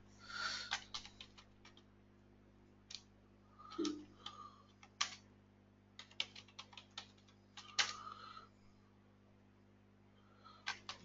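A MySQL command is typed on a computer keyboard as quiet, crisp key clicks arrive in irregular clusters with short pauses between them, close and isolated in a calm room.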